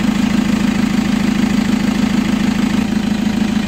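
Chevrolet Captiva AWD engine running steadily with throttle applied, a loud, continuous, even mechanical drone without clear rev swells, heard up close and alone with no talk.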